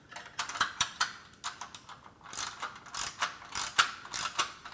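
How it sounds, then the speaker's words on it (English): A wrench ratchets on coarse-thread 3/8 inch bolts while assembling a Body Solid EXM3000 home gym, giving rapid clicking bursts in uneven repeated strokes, close and crisp with no voices. "Choked up on a wrench because there's no need to crush the tubing, which is easy to do with 3/8" bolts"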